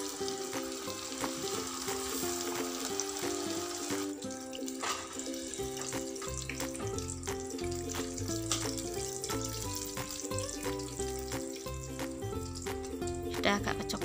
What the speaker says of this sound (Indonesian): Kita mulai menggoreng ayamnya. Kita masukkan ayam. Menggoreng ayamnya dengan api kecil aja ya Bunda ya,